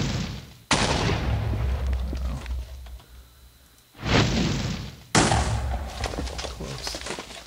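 A meteorite in a video game slams down and explodes on impact twice, each blast an abrupt loud broadband burst that decays into a long crackling, rumbling tail.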